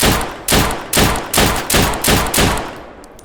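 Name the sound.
C19 .45 pistol gunfire in video game Deadside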